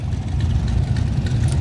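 A car engine idles at the Kustom Kemps Sundown Cruise car show, with a loud, steady low rumble close by throughout.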